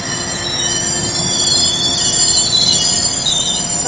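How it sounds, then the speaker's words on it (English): A train slows to a crawl, its wheels squealing in a loud, sustained high-pitched screech over a steady rumble. No voices are heard. "Again, the train slowing down to very, very, very slow speed."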